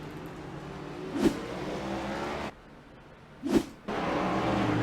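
Race cars in a BRR Cup all-star event, engine drone broken by two sharp loud passes, one car sweeping by close, then a brief lull before the roar resumes.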